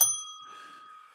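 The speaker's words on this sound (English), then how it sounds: "Man, ring the dang bell." A bell rings once with a sharp bright strike and then a steady ringing tone that slowly fades, standing alone with no talk.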